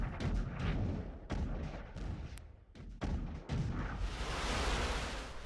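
Gunfire and artillery from Russia-Ukraine war footage: a rapid series of sharp shots and heavy thumps, some close and loud, followed by a sustained rumbling roar at the end, with no talking.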